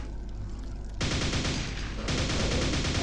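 Rapid, sustained nail gun fire in Quake: dense, loud mechanical bursts with a harder, heavier stretch of firing beginning about a second in and continuing without pause.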